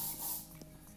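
Short hissing burst of spray aimed at the neck, close and steady for a split second, then fading under faint background noise.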